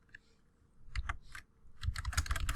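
Computer keyboard typing an email subject line, quick bursts of close, crisp keystrokes with a short pause between runs.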